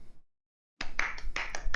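Scattered hand claps from a small audience at a game studies class presentation, following a brief silence, close and moderately quiet, coming in uneven bursts.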